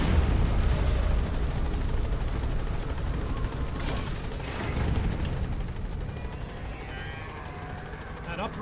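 A large explosion in Metal Gear Solid V comes amid a loud, steady helicopter-like rotor drone, the blast hitting sharply around the middle and fading into rumbling roar, with someone talking over the game sound.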